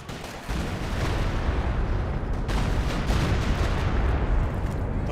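Continuous artillery barrage from the Company of Heroes 2 strategy game, a dense rumbling roar of overlapping shell bursts and booms sustained loudly throughout with no pauses.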